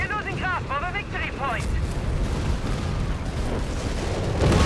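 Rumbling battle noise from Company of Heroes 3, booming bursts of heavy fire and explosions rolling continuously beneath an excited caster voice talking over the action.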